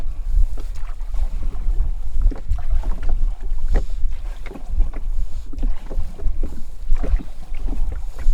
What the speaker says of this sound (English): that's Karri, who is paddling his small ringy-dingy rowboat